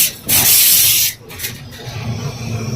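Rice cooking in a pressure cooker beside one holding dal, with a loud burst of steam hiss up front that cuts off, then a quieter steady simmering rumble continuing close by.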